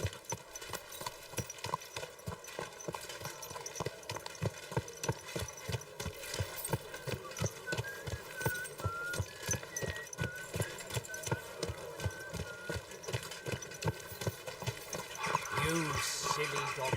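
A donkey's hooves clip-clopping in a video game, a steady close rhythmic trot running throughout over a bed of ambient game sound.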